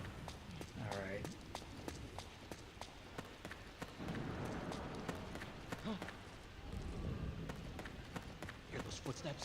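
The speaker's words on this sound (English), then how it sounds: "Hear those footsteps?" Footsteps in the stealth video game Metal Gear Solid 4 patter in a steady rapid series of soft thuds over a busy game soundscape, with a voice talking over them.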